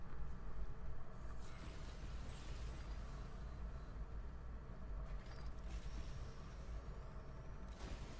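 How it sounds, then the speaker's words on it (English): A door creaks and grinds open with a mechanical, ratcheting scrape in the Ghostbusters video game, a steady drawn-out groan that carries on for several seconds at moderate volume. "Until you can just shove the door open."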